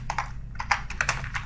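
Quick, light keystrokes on a computer keyboard as a sheet name is typed into Excel, about a dozen close, crisp taps in an uneven rhythm.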